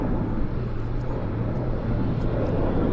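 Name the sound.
airplane departing from Vancouver airport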